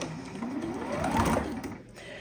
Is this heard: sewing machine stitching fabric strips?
yes